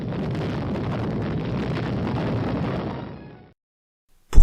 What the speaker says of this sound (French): explosion atomique pourtant destinée à décimer des milliers de personnes en une fraction de seconde